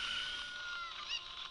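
A cucco hen in The Legend of Zelda: Ocarina of Time gives a steady, nasal clucking cackle as a game sound effect. It is fairly loud and carries on without a break under faint background music, and no one speaks.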